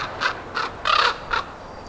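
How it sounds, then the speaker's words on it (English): Several loud, harsh crow caws ring out nearby outdoors, four separate calls with the third one longest, against a quiet background and no voices. "the birds are a little rambunctious today"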